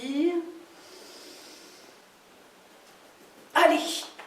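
Deep breathing exercise: a voice speaks briefly, then a long soft airy inhale through the nose, a quiet pause, and a sudden forceful exhale near the end.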